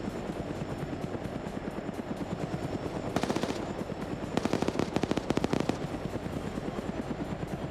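A helicopter door gunner in a video game fires the machine gun in two rapid bursts, a brief one and then a longer one, over the constant loud drone of the helicopter rotor.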